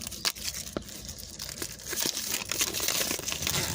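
Google Nest Mini packaging being torn open by hand, a close crinkling and ripping of paper and cardboard in short bursts that grow steadier and denser toward the end, with no talking.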